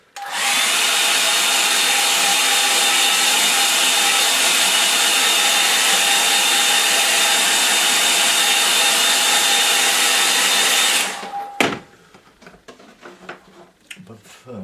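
A hair dryer blows loudly and steadily on a watercolour painting for about eleven seconds, a constant whirring roar, then cuts off, leaving soft handling clatter and light taps.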